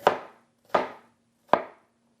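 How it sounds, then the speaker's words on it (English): A knife cuts through watermelon onto a cutting board in three evenly spaced chops, each a crisp, juicy thud with a brief decay, close and clear over a faint steady hum. "And now we're going to go ahead and just slice this down the side a couple times."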